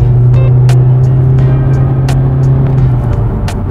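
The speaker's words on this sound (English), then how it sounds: "I'm gonna put it in sport, and I'm gonna see how good the acceleration is in this thing." A Honda Accord special edition accelerates in sport mode, its engine holding a loud, steady droning hum heard from inside the cabin, with light ticks and rattles over the continuous tone.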